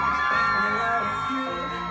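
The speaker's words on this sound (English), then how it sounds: "On the count of 3, I want you to scream for Ellie." Crowd of audience members screaming, whooping and cheering together for Ellie at a Los Angeles event on a host's countdown, a loud sustained roar with high yells across the whole moment.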